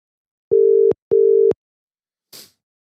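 Two identical tones of a phone line ring out in a telephone call, each lasting about half a second with a short gap between them. A faint click follows afterward.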